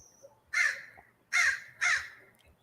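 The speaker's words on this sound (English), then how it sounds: "When the crow comes like that, right when we're talking about grieving, that's ancestors." A crow gives three loud, harsh caws spaced about a second apart, clear and fairly close against an otherwise quiet background.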